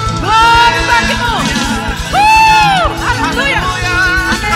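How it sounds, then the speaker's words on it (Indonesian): A church congregation at a Christmas service cheering and shouting, with loud whoops and yells rising over a dense crowd roar and a steady rhythmic beat throughout. "Berikan sorak-sorai yang terbaik"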